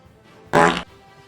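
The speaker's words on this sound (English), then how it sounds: "Thank you for the fart." A loud, brassy fart sound effect bursts out for about a third of a second as a livestream alert, standing alone against a quiet background.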